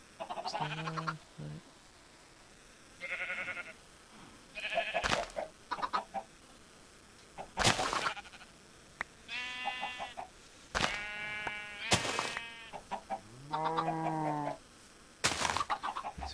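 Several Minecraft chickens in Sky Factory 3 cluck and squawk in repeated close bursts, with sharp clicks between calls, loud and alone.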